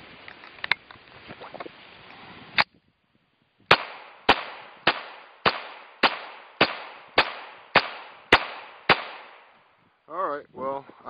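A Smith & Wesson 22A-1 .22 pistol, just back from repair, fires a steady string of about ten sharp, loud shots at roughly even half-second spacing after a few earlier shots and a pause, with brief talk at the end.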